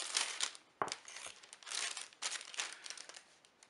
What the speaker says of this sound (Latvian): Iepakojums vienkārši maisiņš.